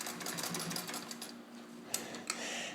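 A restored mint-condition Singer 66 Centennial Edition sewing machine stitches through fabric with a steady, close mechanical whir, and two sharp clicks stand out near the end.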